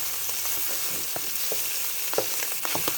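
Sausage crackles and sizzles in a skillet with a steady hiss, broken by sharp pops and the scrape of a utensil against the pan bottom.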